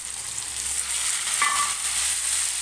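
Potatoes, pointed gourd and fried prawns sizzle loudly over a high gas flame in a pan, with a steady, close hiss of frying and a brief metallic scrape as the mixture is stirred partway through.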